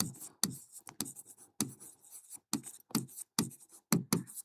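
Chalk or a marker writes on a board during a class 9 biology lesson, with a close, steady run of quick scratchy strokes and short pauses between words.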